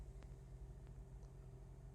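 A Toyota RAV4 engine idles steadily just after its battery was replaced, a low continuous rumble with a faint tonal hum, close and even throughout with no talk.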